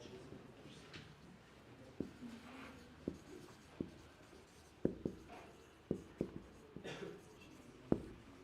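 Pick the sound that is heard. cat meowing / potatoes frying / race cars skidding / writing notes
writing notes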